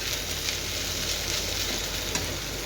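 Cooked okra is stirred in a frying pan, a steady, dense sizzle with soft scraping strokes running throughout, close up and with no voices.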